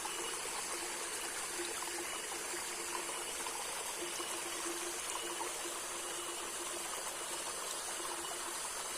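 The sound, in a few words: mountain water flowing through a bamboo gutter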